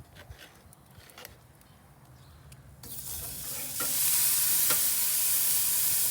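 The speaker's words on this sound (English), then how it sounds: "So we're gonna do our searing right now." Burgers go onto a hot cast iron grate on a Masterbuilt Gravity Series charcoal grill, with a quiet start and a few clicks, then a loud searing sizzle that swells and holds steady, with no talk.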